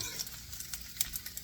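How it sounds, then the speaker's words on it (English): Bacon fries toward crispness in a pan, giving a soft, continuous close sizzle broken by small crackling pops, with no voices. "Now they want the bacon crispy, and it's getting that way."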